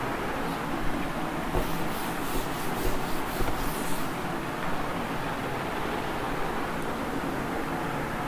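An eraser rubs writing off a classroom board in a physics lecture, a brief burst of scratchy strokes between about one and a half and four seconds over a dull room hiss.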